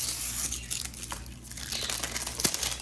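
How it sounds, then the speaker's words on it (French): Crinkling and tearing of vacuum-sealed plastic wrapping as a diamond painting canvas is opened by hand, close and continuous, with sharper rips near the end. "la toile est emballée dans une espèce de emballage sous vide, là, genre comme ça. On va l'ouvrir ensemble"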